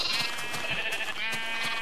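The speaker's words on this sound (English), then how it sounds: "let's feed all these wonderful sheep so they mate with each other, and we get tons more wool" Sheep in the Minecraft video game bleat several times in quick, overlapping calls, clear and up front over a steady background.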